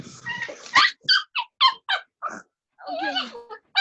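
A dog whimpers and yips in a string of short, high, close bursts with brief gaps, ending in a longer wavering whine and a final yelp.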